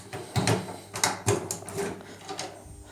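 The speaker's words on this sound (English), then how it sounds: "if we open up the coin door" The coin door of a Capcom pinball machine is opened: a few close mechanical clunks and rattles of a metal door and latch, with quiet handling noise between them.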